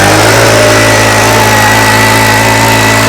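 A 105cc, 4 HP Chetak mini power weeder engine runs close and loud with a steady, buzzing drone that holds an even pitch throughout.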